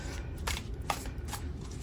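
A brand-new tarot deck is riffled, its cards giving soft, papery bursts in three quick flutters over a low, steady background hum, faint and close with no voices.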